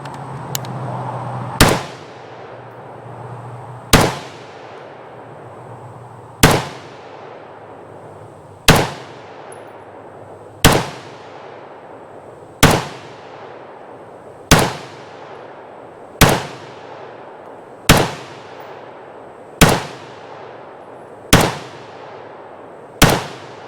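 Steyr AUG semi-automatic bullpup rifle firing Phoenix ammunition, a preban Interarms/GSI Austrian STG77 A1: eleven sharp, loud single shots at a slow, even pace roughly two seconds apart, each ringing into a decaying echo, with no talking.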